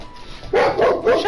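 A dog barks loudly and close by, two or three quick, sharp barks in a row with no one speaking over them.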